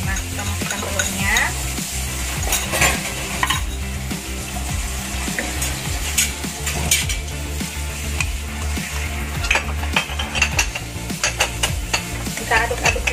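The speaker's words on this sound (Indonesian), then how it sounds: "Kita aduk-aduk dulu telurnya seperti ini dengan isiannya" Egg with chive and shrimp filling is stirred in a frying pan, a steady close sizzle with repeated scraping strokes of the utensil running throughout, with no voices.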